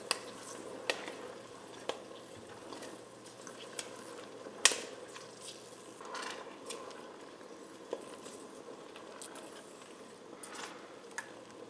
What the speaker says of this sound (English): the popping you're hearing is them bursting